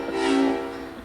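A train horn blown as a stage sound effect in a school production of The Music Man, one short steady blast that swells and fades over about a second, standing alone.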